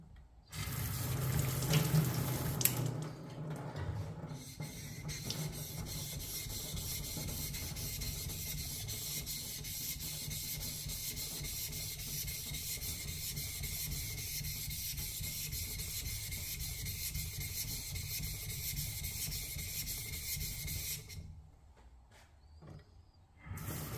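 A Cheolma 110mm drawknife blade worked back and forth on a whetstone, giving a steady, continuous wet grinding rasp that runs for about twenty seconds before stopping, with a few louder scrapes at the start.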